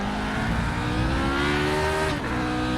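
A Lotus 49 race car driven in a racing video game, its engine revving high and loud with a rising whine, then a quick dip as the gears change, followed by steady running with no voices.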